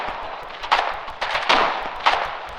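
Infantry exchange rifle fire in the war game Foxhole, with several loud, sharp shots cracking at irregular intervals over a constant rumbling battlefield background.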